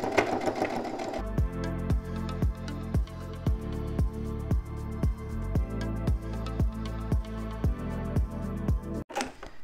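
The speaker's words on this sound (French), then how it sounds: "Je vais faire une petite couture ici pour justement coudre l'extérieur de poche sur le corps" A sewing machine stitches a pocket exterior onto a garment body with 3 mm stitches about 0.5 cm from the edge, running in loud, steady bursts separated by brief pauses, close and alone.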